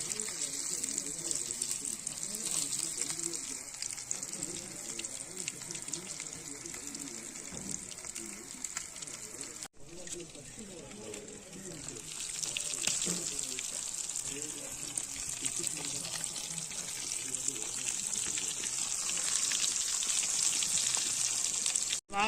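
Frog legs frying village style, a steady broad hiss of oil sizzling throughout with bubbling crackle, loud and continuous, with a brief dropout midway.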